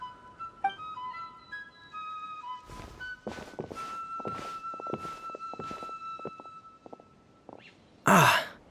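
Footsteps in the Genshin Impact video game at a camp: a steady run of evenly spaced, fairly close steps over soft sustained game tones, followed by a brief louder burst at the end; no speech.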